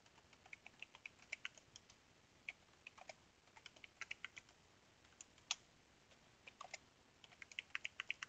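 Quiet clicking of a computer keyboard as a networking command is typed, bursts of light key presses with short pauses between them, soft and close.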